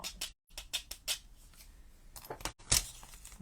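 Scissors snip through paper to cut out cloud shapes, with a run of crisp, close snips and short pauses between them and no talking.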